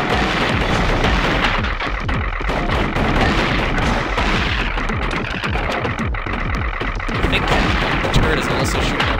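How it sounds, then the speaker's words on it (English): A boss in the retro action game Narita Boy fires rockets amid a constant, dense barrage of booming blasts and rattling gunfire, loud and unbroken throughout, with a voice partly buried underneath. "Is also shooting at rockets."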